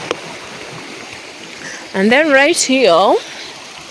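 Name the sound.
river flowing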